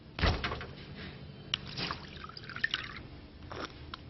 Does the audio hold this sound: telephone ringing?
no